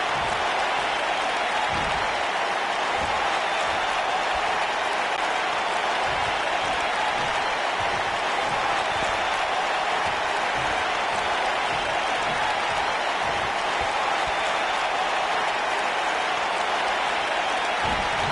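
A wrestling arena crowd at a SmackDown Live event applauds and roars in a dense, steady wash of clapping and cheering that stays loud and unbroken throughout.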